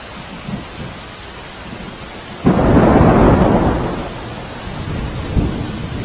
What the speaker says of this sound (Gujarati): રાજકોટના ગ્રામ્ય વિસ્તારોમાં ધોધમાર વરસાદ પડી રહ્યો છે।